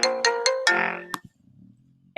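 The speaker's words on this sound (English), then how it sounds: "Ignore that phone call." An incoming phone call rings out as a bright electronic melody, four quick rising chimed notes followed by a longer sustained tone, then a couple of clicks and a faint hum before a last short blip.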